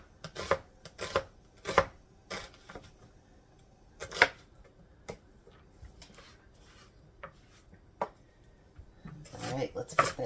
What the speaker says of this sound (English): I'm going to chop them up real fine.